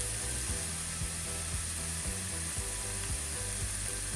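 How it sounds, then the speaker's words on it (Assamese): Chopped onions with turmeric and salt fry in a pan over a low to medium flame for okra masala. The sizzle is soft and continuous, with faint stirring scrapes recurring roughly every half second. "এতিয়া আমি একেবাৰে ল' টু মিডিয়াম ফ্লেমত এই পিঁয়াজখিনি ভাজিম।"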